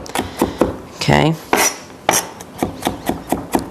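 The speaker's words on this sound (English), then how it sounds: "Okay, and we're just going to keep chopping." Knife chopping garlic on a cutting board, a steady run of sharp, close taps, about a dozen in under four seconds, with a brief spoken word early on.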